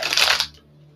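A quick riffle of tarot cards being shuffled, a short close burst of papery flutter that stops abruptly and leaves near silence.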